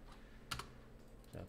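A computer keyboard's Enter key and a mouse are clicked a few times in quick succession, close and quiet over a faint background hum, with a short burst of speech-like sound at the end.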